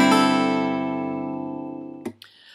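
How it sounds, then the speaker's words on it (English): Acoustic guitar in drop D tuning with a capo on the 5th fret, a single strummed chord ringing out and slowly decaying before being cut off with a brief handling noise. "you're going to want to put your guitar in drop D tuning and then capo the 5th fret of your guitar"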